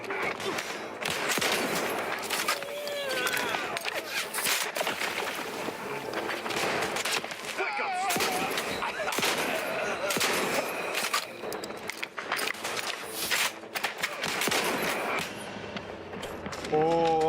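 Combat in The Outer Worlds 2 with repeated heavy shotgun blasts and other gunfire cracking through a dense, noisy battle. Footsteps, effects and voices mix in with the shots.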